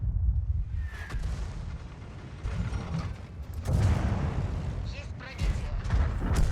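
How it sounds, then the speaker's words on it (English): A KV-2 heavy tank's big gun fires in World of Tanks, heavy booming blasts standing out over a rumbling battle, with a voice talking over the action. "Take a shot from the KV-2."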